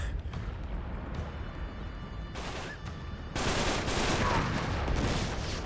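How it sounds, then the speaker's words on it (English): Grenade blast in Uncharted 3: Drake's Deception, heard as a sudden loud burst that lifts a dense, rumbling wall of game gunfire and battle noise already running beneath it. "No, that was another RPG, or not RPG, grenade."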